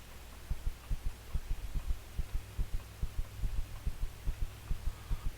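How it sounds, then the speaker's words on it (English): A steady heartbeat effect from the space survival game Empyrion Galactic Survival thumps in low, regular double beats over a constant hum, repeating throughout with no voices. "I don't understand why the heartbeat has to last so long"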